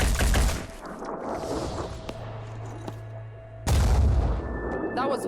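Loud close gunfire in the video game Phoenix Point: a burst of shots at the start, a long lull under a low hum, then another heavy blast with ringing echoes near the end.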